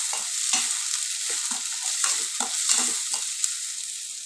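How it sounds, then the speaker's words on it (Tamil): Onions sautéing in a pan for Tamil-style adai dosa, a steady sizzle of frying with repeated scraping and stirring strokes up close, no talk. "இப்போ இதெல்லாம் நல்லா ஒரு லைட் ப்ரௌன் கலர் வர வரைக்கும் வதக்கிடலாங்க"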